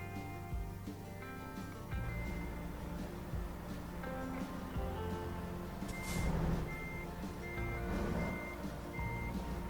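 A truck in American Truck Simulator backing up, its reversing alarm beeping steadily in an even repeating pattern over a low idling diesel rumble, with an occasional hiss of air.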